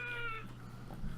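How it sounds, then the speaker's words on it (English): A single short cat meow in the video game Dwarf Fortress, fairly faint and set over a low background hum. "Goblin versus cat"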